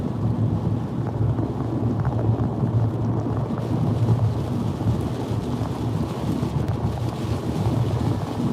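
Strong wind roars during a storm chase ahead of a fast-moving squall line near Louisville, Kentucky, a loud, constant buffeting rumble across the microphone with no talking.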